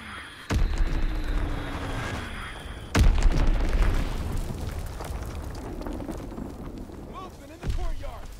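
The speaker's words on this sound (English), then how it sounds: "Enemy bomb incoming." Bomb blasts in a Call of Duty game: two loud booming explosions hit early and midway, each trailing into rumbling debris, with a third burst near the end, while a voice calls out over the noise.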